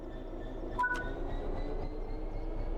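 A train in Train Sim World 6 begins moving under throttle: a steady low rumble of engine and rolling stock, with a short pair of high-pitched tones early on and a faint constant whine above.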